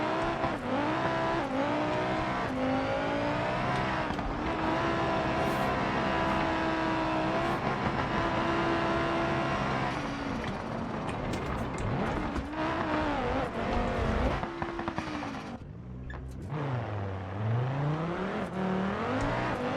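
Rally car engine in BeamNG, revving steadily with rising and falling pitch through gear changes, loud and close, with brief tire squeal and a sharp throttle drop near the end.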